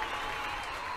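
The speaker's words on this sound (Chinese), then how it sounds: "让我们跟家一起欢呼鼓掌" Crowd at the Huawei Nova 7 smartphone launch event cheering and clapping, a steady dense wash of applause filling the hall with no clear voices on top.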